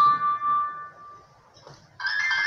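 A phone rings with an incoming call: a sustained electronic tone fades out, then a brighter, louder ringing chime starts up and carries on, close by with no talk.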